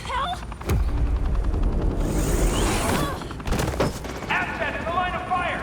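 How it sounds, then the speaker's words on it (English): Bursts of gunfire in the video game Batman: The Enemy Within, a loud rattling volley mixed with booms and impacts, with speech-like voices interleaved. "You cops can't just shoot people like that!"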